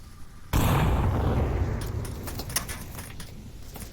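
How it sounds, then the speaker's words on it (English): A rocket blast goes off suddenly in the VR shooter game Onward during a competitive match, a loud close boom followed by a long rumbling decay with scattered metallic clatter and pops. "Pink throws a rocket."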